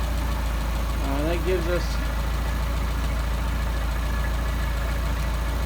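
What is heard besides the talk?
engine idling with Solex 44PHH carburetors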